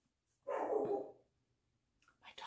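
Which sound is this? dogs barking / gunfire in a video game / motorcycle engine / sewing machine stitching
dogs barking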